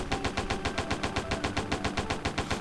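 A Browning M1919 A4 machine gun fires in the game World of Guns, a steady rapid stream of evenly spaced heavy shots rattling on for several seconds, loud and close with no pauses.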